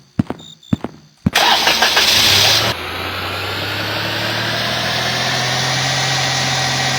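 A car engine cranks and catches inside a horror video game, preceded by a few sharp door or footstep clunks, then settles into a steady, loud idle rumble that continues to the end.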